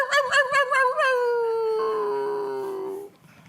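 A voice imitates a neighbor's dog howling on a porch: a loud, close, wavering howl that breaks into quick yips and then settles into one long drawn-out wail before trailing off.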